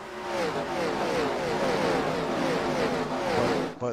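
NASCAR stock cars racing around Bristol Motor Speedway in iRacing, a steady loud engine drone with overlapping pitches as the pack runs near the wall, no voices over it.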